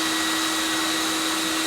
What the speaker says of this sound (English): This is one of the things that I absolutely love about the CECOR Sump Shark is how fast it sucks and does the discharge.